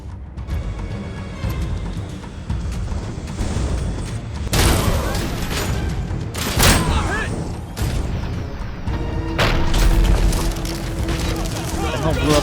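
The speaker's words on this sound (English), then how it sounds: "What the hell blew up down there?" Explosions and heavy booming blasts in the RoboCop: Unfinished Business video game, several loud bursts and rumbles over a busy battle soundscape with gunfire-like pops, including a big blast partway through.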